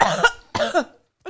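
A person imitates coughing, two rough close coughs followed by a short faint throaty bit, with no other talking.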